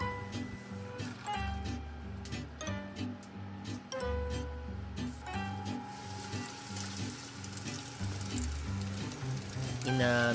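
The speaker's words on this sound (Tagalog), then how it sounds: "siguraduhin nating may mantika yung paglulutuan natin at mainit na ito para ready na for frying yung mga iluluto nating ham and cheese bread roll." Ham and cheese bread rolls fry in hot oil over medium heat, a continuous sizzle running steadily beneath louder background music.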